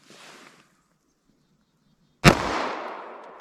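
A single sharp, loud 9mm+P Corbon Glaser Safety Slug pistol shot from a 5-inch barrel into clear ballistics gel, a sudden crack followed by a long fading ring, preceded by faint background noise.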